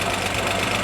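A 1948 Chevy dump truck engine crawls in first gear while off-roading, giving a loud, close, continuous low rumble with a steady knocking throb through the short moment.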